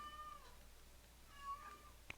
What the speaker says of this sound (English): My cat just is bound and determined to be on this podcast.